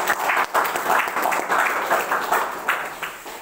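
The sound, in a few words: audience applause at a seminar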